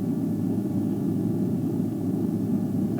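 Aircraft engines spool up as the captain adds thrust on approach in a flight simulator exercise, a steady, loud low roar and hiss filling the cabin without letup, with no voices.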